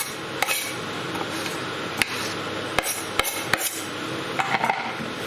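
Okra and potato masala with coriander being stirred in a pan, giving scattered sharp metallic scrapes and clinks of a utensil against the pan over a steady sizzle, with no talking.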